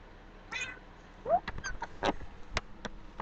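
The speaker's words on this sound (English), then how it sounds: "my cat Bella does this really cute thing where if I sneeze, she meows at me" Bella the pet cat meows a few times in short, mid-pitched calls, close by, mixed with clicks and small handling noises in a quiet room.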